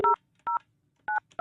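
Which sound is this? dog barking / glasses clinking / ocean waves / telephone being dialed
telephone being dialed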